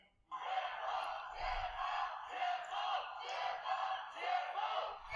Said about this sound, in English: midnight cries for freedom in Beijing